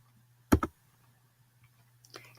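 Button presses on a graphing calculator keypad while entering an inequality: a quick pair of crisp clicks, then a softer cluster of taps near the end over a faint steady hum.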